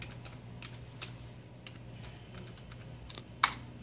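Keys on a computer keyboard tapped in a quick, light run of close clicks, ending in one sharper, louder keystroke, alone with a steady low hum.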